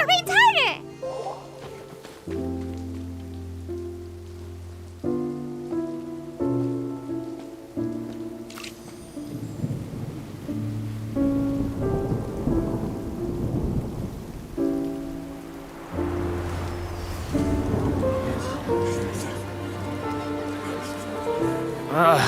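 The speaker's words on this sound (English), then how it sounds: "It's raining again?" Rain falls in a video game story scene, a steady hiss under game music with deep thunder rumbles, while characters talk over it.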